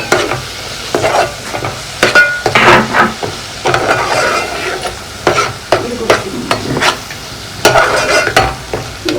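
Fast stirring of capsicum egg curry in a pan, with quick repeated scraping strokes over a soft sizzle.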